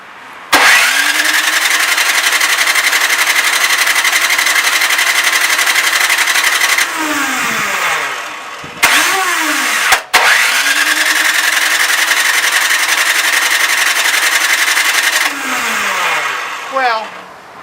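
Toro Power Clear or Craftsman snowblower engine being cranked with an electric starter, two long whirring cranking runs that wind down, with brief kicks in between, loud and close.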